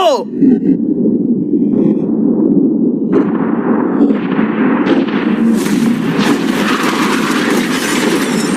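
A blast set off to blow up a yacht opens with a sharp crack, followed by a long, loud rumbling roar and crackling debris that builds and lingers.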